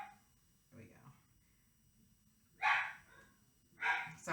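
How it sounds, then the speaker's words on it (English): A puppy barks somewhere in a home during an indoor painting session, giving a few short yips and two louder, sharper barks toward the end, with soft background noise between them. "the puppy is barking"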